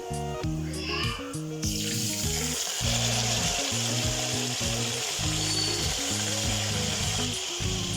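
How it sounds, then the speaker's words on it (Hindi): A leg of lamb goes into a pot of light golden frying onions for mandi, and a loud, steady sizzle erupts and continues close up, with low clattering thumps and some background talk. "अब हम इसमें रान डालेंगे।"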